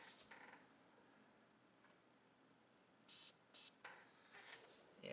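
Two short bursts of airbrush spray releasing candy metallic paint, close and distinct over a faint hissing background, with softer puffs after.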